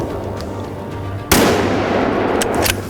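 One sharp, loud gunshot rings out at a wild boar during a driven hunt in the Czech Republic, with a lingering outdoor echo. Faint rustling follows.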